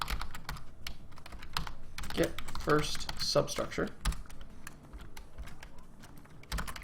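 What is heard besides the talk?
typing on a computer keyboard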